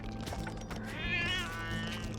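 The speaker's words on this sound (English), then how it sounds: "it's not your cat at home doing those noises, it's the game" Cat meowing from a bullet hell video game rises as a drawn-out, wavering meow over busy game noise and steady music, moderately loud in the mix.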